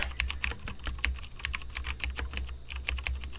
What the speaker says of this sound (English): What are you typing now